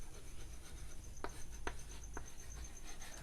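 Faint writing on a board during a lecture, with a few short, sharp strokes and light scratching over a steady background hiss and a thin high whine, quiet and close.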